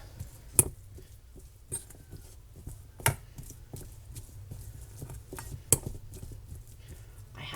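Cooked chicken being shredded for patties with utensils: quiet soft scraping and rustling broken by a few sharp metallic clinks spaced a couple of seconds apart, close and fairly faint.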